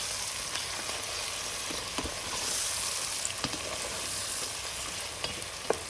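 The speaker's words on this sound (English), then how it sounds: "So I'm just cooking it in this oil" Green pepper and garam masala spices fry in hot oil for a lamb shank curry, a steady close sizzle with occasional crackles and light stirring clicks, continuous and without speech.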